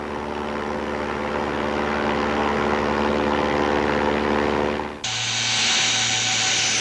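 A Super CASA propeller aircraft takes off from a runway in Charmey, Switzerland, carrying skydivers. Its engines give a loud, steady, droning roar that shifts abruptly to a higher, brighter whine partway through.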